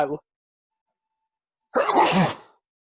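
A single loud, close sneeze bursts out after a brief clipped bit of talk and a pause of silence.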